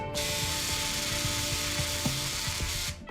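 Powered surgical drill driving the last screw into a bone plate on a cat's tibia, a steady high whine running continuously for about three seconds with a faint mechanical rattle underneath, then stopping abruptly.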